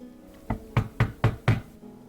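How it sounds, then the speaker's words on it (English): Five loud, evenly spaced knocks pound on a wooden door in a game setting, a maid's chamber in the castle of Maid of Chapelle Bleue, with no voices. "the pounding at my door"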